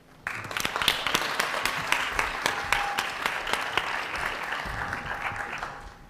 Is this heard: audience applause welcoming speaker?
yes